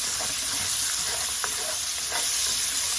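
Shrimp sizzle and fry in a hot pan for shrimp fried rice with chicken: a steady, dense crackle fills the whole stretch, with faint stirring clicks and no talking.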